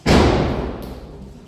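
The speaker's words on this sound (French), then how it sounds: "Vous avez dû l'entendre la porte claquer." A heavy door at an abandoned castle slams shut in the wind with a single loud, booming thud that rings out and fades over about a second.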